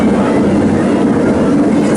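A train on a ride at Phantasialand amusement park rumbles past close by, a loud, continuous wash of rolling noise without clear breaks.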